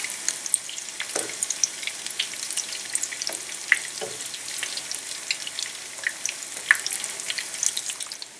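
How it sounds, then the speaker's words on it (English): Shami kababs frying in oil in a pan, a steady crackling sizzle with scattered sharp pops throughout, close and continuous, no voices. "We're gonna fry it on each side pretty much about 2 minutes to 3 minutes"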